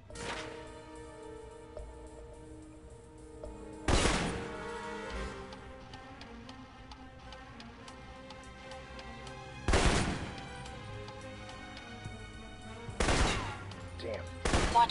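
Assault rifle fire in the video game Alpha Protocol: three loud, sharp bursts spaced several seconds apart, each with a crackling tail, over a steady bed of game music and ambience.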